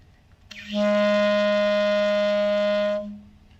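A single sustained clarinet B flat held steady for about two and a half seconds, clear and close, then released into quiet.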